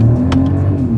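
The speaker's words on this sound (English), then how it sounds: "let's see how quickly we can get our new 2025 Mercedes-Benz GLS 450 here up to speed" A 2025 Mercedes-Benz GLS 450 three-row SUV in sport mode pulls onto a highway, its engine droning steadily and loudly from inside the cabin as it accelerates.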